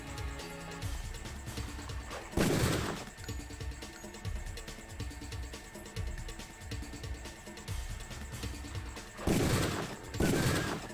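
Gunfire in Deus Ex with the Revision mod: several loud, broadband bursts of shots stand out against a busy game soundtrack, with a heavy pair near the start and two more toward the end.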